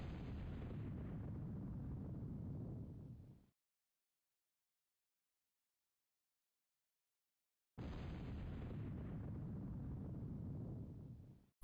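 Two long, heavy rumbling explosion blasts from the strategy game Total Annihilation, each lasting a few seconds and cut off abruptly, with several seconds of silence between them.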